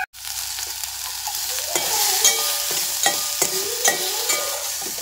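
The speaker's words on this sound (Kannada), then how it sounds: "ಇದನ್ನು ಜಸ್ಟ್ ಒಂದು ಸ್ಪೂನ್ ಆಯಿಲ್ನಲ್ಲಿ ಇದನ್ನು ಜಸ್ಟ್ ಉಪ್ಪು ಹಾಕಿ ಸಾಟೆ ಮಾಡ್ತಾಯಿದ್ದೀನಿ" Broccoli sautéing in a spoonful of oil with salt in a pan, a steady sizzle and frying hiss with repeated stirring scrapes at a regular pace, close and fairly loud, with no talking.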